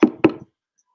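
Two sharp knocks on a wooden surface, close and distinct, about a quarter second apart, then silence.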